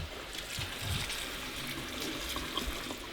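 Tap water runs steadily over food in a sink, rinsing away starchy water, a soft continuous trickle and splash close by with slight fluctuations.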